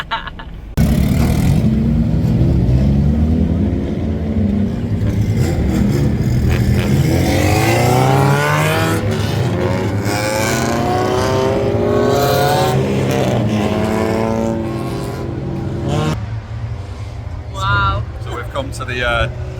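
Race cars on the Dixie Speedway dirt track roar past, engines revving and rising and falling as they circle, loud and sustained, with people talking over the din.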